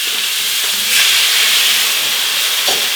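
Steaks flambéed with cognac in a hot pan, a loud, close, continuous hiss and sizzle that swells briefly as the flames catch, then settles into a steady roar.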